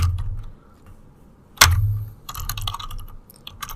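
Fingers typing a short line on a computer keyboard, with a burst of quick, close key clatter in the second half after a sharp thump, and scattered clicks before it.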